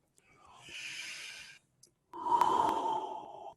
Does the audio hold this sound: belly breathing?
yes